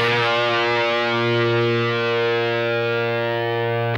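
A loud distorted electric guitar note rings out on the A string in a phrase, sustaining steadily for about four seconds before stopping abruptly, with no talking.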